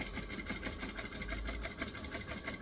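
A sewing machine stitching along a bag, a steady rapid mechanical chatter with even rhythmic pulses throughout, close and moderately quiet.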